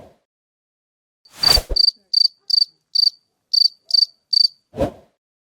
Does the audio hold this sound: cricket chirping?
yes